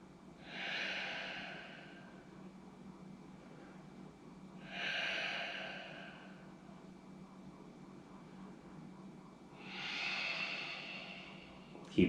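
Long, slow breaths during a yoga stretch: three drawn-out airy exhales, close and soft, spaced roughly every four to five seconds over a quiet background.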